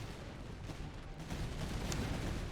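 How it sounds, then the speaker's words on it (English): Artillery firing in the Napoleonic-era game Master of Command, a dense, continuous rumble of distant cannon fire and battle noise with no clear separate shots. "And unlimber the artillery so they will shoot."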